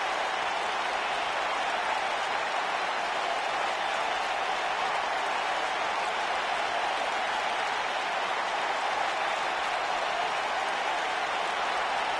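A sold-out arena crowd applauds before a wrestling match, a dense, steady wash of clapping and crowd noise that holds at an even level throughout.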